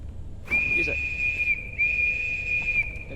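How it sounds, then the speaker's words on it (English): Two sustained high whistle blasts from a defense whistle in the video game Grave/Diggers, each held about a second, with a brief gap between them and faint background noise underneath. "Alright, so your next whistle. Defense whistle."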